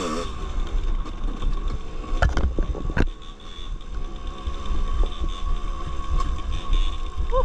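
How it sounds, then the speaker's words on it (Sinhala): A dirt bike rolling down a big slope at an abandoned jungle place in Sri Lanka, with a steady engine drone under heavy wind rush and a couple of sharp knocks, loud and continuous. "අපි ලොකු බෑවුමකට රයිඩ් කරන්නේ."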